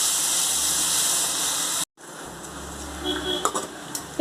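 Lettuce hisses and sizzles steadily in a hot pan while being lightly sautéed, a loud frying crackle that breaks off abruptly, then softer sizzling returns with a few light clinks of a utensil against the pan.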